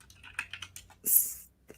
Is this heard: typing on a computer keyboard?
yes